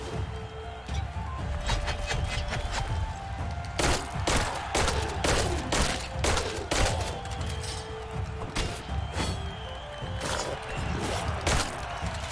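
Gunfire from the Tails of Iron video game crackles in rapid, irregular bursts over a steady background din, sharp repeated shots clustering in the middle and continuing to the end.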